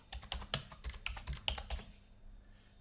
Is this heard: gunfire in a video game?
no